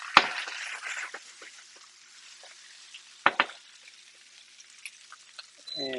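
Prawns frying in butter in a pan get a quick toss, with clattering knocks and a soft sizzle that fades to quiet, then a brief burst of hiss near the end.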